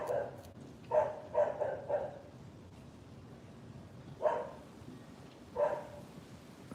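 A dog barks outdoors near a lemon tree, with a single yelp, then a quick cluster of three or four barks, then two more separated barks, moderately close against a quiet background.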